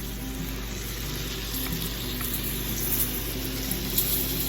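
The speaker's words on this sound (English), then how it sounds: "We got the snook in the butter." Snook fillets fry in butter with a steady, close sizzle and crackle that builds slightly toward the end, with no voices over it.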